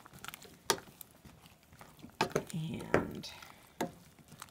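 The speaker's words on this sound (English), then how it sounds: "So I'm going to give all that a stir." Mushrooms, tomatoes and spinach being stirred into savory oats in a pot, giving a few scraping, sizzling pushes of the spoon in short bursts, with a brief word spoken over it.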